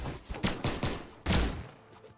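Rapid gun attack combos in the platform fighting game Brawlhalla, a burst of several sharp shots in quick succession followed by a louder heavy impact, all fairly close and loud.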